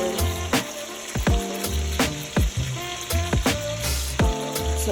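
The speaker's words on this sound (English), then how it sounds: "I'm going to go ahead and put all this bacon in there." Bacon sizzling and frying in a pan, a steady crackling hiss with sharp pops and spatters scattered throughout, close and fairly loud, with no talk.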